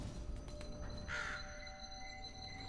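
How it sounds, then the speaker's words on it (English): A caged bird in the puzzle game The Room Three gives a single short caw as its cage drops. The call is faint over a steady, droning game background. "Having the cage drop like that was very unkind to the bird."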